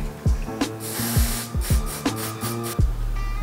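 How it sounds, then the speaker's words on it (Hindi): Old deodorant is sprayed onto a soft-touch plastic coating in bursts of loud hiss, while thumping knocks and handling noises from the can recur between the sprays. "थर्ली इसको स्प्रे करना है हमें"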